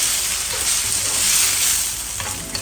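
Chicken and broccoli stir fry in chili-garlic sauce sizzles steadily in the pan as it is stirred continuously, a dense, even frying hiss with no voices.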